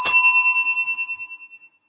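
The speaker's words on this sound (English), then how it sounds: "Yes, let's ring that bell." A single bell is struck once, ringing out bright and clear, then its tone fades in slow pulsing waves over about a second and a half, alone with no talk.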